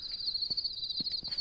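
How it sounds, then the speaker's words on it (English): Crickets in the video game Dread chirping in a steady, high continuous trill, with a few soft low thuds like footsteps scattered underneath and no speech. "we got some crickets"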